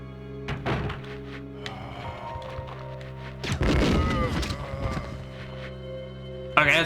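A grenade launcher fires in the Resident Evil 2 video game: a deep thunk, a heavier booming blast around mid-clip and a sharp hit at the end, over a steady game-music drone.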